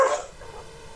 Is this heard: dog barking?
yes